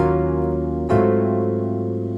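A sustained chord over an A-flat bass note rings out deep, and a fresh attack midway renews the harmony before it holds steady.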